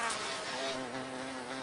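A bee vibrates its wings at a steady middle C pitch to shake pollen loose from a flower, producing a close, continuous droning buzz that holds one even tone throughout.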